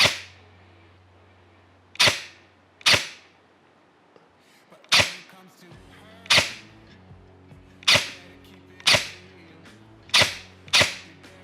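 Twelve sharp, loud shots from an ARES M45X-S airsoft gun firing BBs on an outdoor range, powered by an 11.1 volt LiPo battery, spaced irregularly with short pauses, alone over a low background hum.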